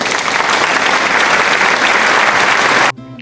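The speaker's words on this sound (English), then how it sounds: "A round of applause." A loud, dense burst of applause that holds steady for almost three seconds and then cuts off abruptly.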